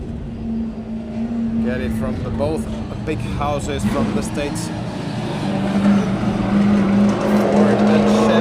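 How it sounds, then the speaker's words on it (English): V8 drift cars from Drift Masters practice in Ireland rev and scream continuously at close range, with tire squeal woven in, while a commentator talks over the engine roar throughout. "If you like some V8 sounds"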